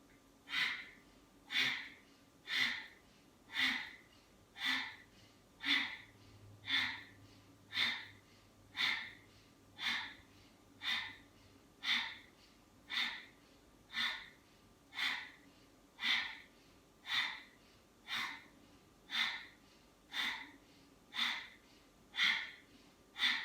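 Quick, forceful breaths puff in a steady rhythm during core strength work, roughly one sharp exhale per second repeated without a break, close-up and evenly spaced, with a faint low hum beneath.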